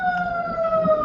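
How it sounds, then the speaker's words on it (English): An ambulance siren wails steadily outside for about a second, a sustained two-tone whine holding fairly loud and constant without any talk over it. "Bro, I had an ambulance on my end here."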